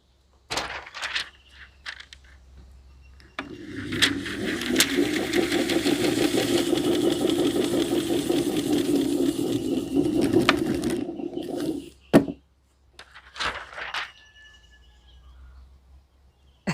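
A homemade chapati maker built from an old ceiling fan runs with a steady motor whir and a rattling mechanical hum for several seconds, preceded and followed by sharp clicks and knocks as it starts and stops.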